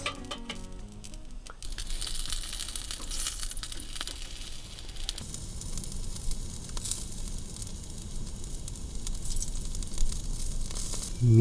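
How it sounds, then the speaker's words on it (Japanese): Salted cherry salmon (sakura masu) grilling on a home stove, a steady broadband sizzle and crackle running throughout, with a brief louder clatter at the very start, no voices. "全体にパラパラっと塩をまぶして、そしたらコンロで焼いていきましょう。"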